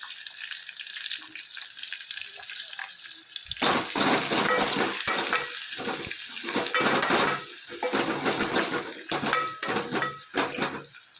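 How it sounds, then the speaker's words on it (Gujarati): Garlic and green chillies sautéing in a pan at home, a steady sizzle with repeated scraping and stirring clatter of a utensil against the pan, loud and close with no talk. "લસણ અને લીલા મરચાં, સરસ આપણે સોટે કરી લઈએ."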